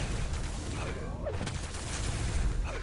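Rockets fire and explode in a competitive Quake duel, a dense wash of blasts and whooshing projectiles layered continuously with frantic game action at moderate level.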